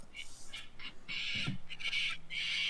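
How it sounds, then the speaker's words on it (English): Harsh bird squawks played as a sound effect during a Death at Silverlight Manor tabletop session, several raspy calls in quick succession, fairly loud and close. "The birds. The birds."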